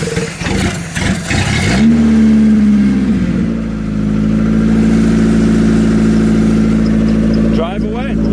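A car engine roars close by and then settles into a steady, loud drone as the vehicle moves off, with people talking over it.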